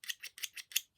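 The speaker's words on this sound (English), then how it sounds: "use this to snip your yarn." Small hand snips with a sharp edge cut yarn in five quick, crisp snipping clicks at a brisk, even pace, close and quiet, with no talking.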